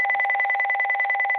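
A telephone rings out a steady, loud electronic purring tone with a fast pulsing warble for a phone call, sounding alone without any voices.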